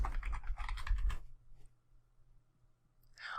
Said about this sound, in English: Let's just type in the word fitness and see what happens.